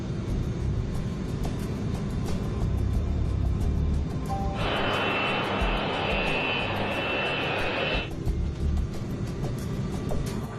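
Northwest 299, an airliner, taxis onto taxiway X-ray, its jet engines giving a steady moderate rumble with a brighter whine that swells for a few seconds mid-clip, then settles back.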